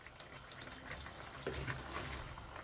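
Pork leg adobo simmering in a cooking pot, giving a steady low bubbling and watery hiss that runs throughout, with a brief splashy surge near the middle and no talk.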